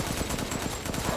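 Rapid automatic gunfire in the video game Resident Evil Village, a dense fast rattle of shots repeating evenly through the short burst.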